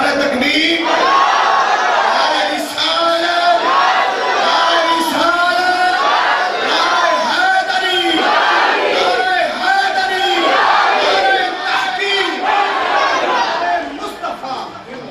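A large crowd at a devotional religious gathering shouts a rhythmic Nara-e-Takbir call-and-response chant in loud, repeated bursts that carry on steadily throughout.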